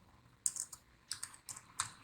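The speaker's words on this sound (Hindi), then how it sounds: "डॉट का सिंबल लगा दिया अपने कीबोर्ड से" Keys tapped on a computer keyboard in short clustered bursts, a few quick clacks at a time with pauses between, close and fairly quiet, no voices.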